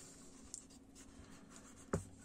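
A pencil scratches on paper while sketching a figure's leg, soft continuous strokes with a few sharper taps near the end, close and quiet, no talking.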